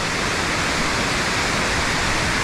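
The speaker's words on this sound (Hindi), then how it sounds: "पानी का इतना आवाज़ आ रहा है ना, चारों तरफ पानी ही पानी है, झरना ही झरना है।" Langvoku waterfall in Karbi Anglong, Assam roars as a dense, steady wash of falling water, loud and close with no break.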